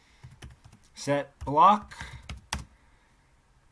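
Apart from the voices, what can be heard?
typing code on a computer keyboard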